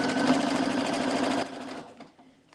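A sewing machine stitches through denim with a fast, loud, steady whir for about a second and a half, then slows and fades to quiet.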